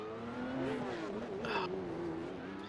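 A race car engine revs and wails in an online sim racing league race at Adelaide, its pitch sweeping up and down as the wheels spin, with a brief burst of tire squeal or scraping midway and no voices.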